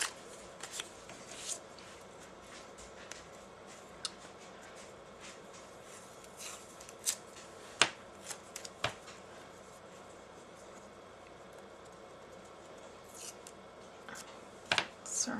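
Adhesive tape crackles and rips in sporadic bursts while being handled for a paper sunrise craft, with rustling paper between sharp close pulls.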